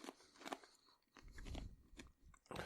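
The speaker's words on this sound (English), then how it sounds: "I'm eating fried pig's rind." Close, loud crunching and chewing of crispy fried pig's rind, in uneven bursts of bites and munching with short pauses between.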